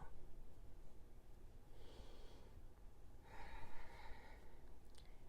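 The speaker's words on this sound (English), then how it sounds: "exhale, inhale, exhale, inhale," Slow, deep yogic breaths, a soft inhale and then a longer, louder exhale, close and steady against a low background hum.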